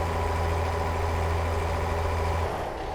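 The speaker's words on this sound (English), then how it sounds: "As I'm revving in high gear, or high RPM." A heavy truck engine in the American Truck Simulator game drones loud and steady at high RPM in high gear, a constant rumbling whine that eases slightly near the end.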